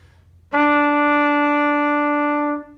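A single sustained trumpet tone on the note E rings out clearly for about two seconds, steady and loud, after a brief quiet start.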